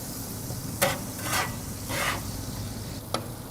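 Ground beef simmering in 505 enchilada sauce in a pan for beef tacos gives a low steady sizzle, with a few brighter bursts of stirring scrapes and one sharp clink near the end.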